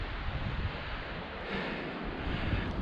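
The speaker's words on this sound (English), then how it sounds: "the wind's terrible" Strong wind buffets the open moorland near Beeley Moor Edge, a loud continuous roar with gusts swelling and easing, and no voices.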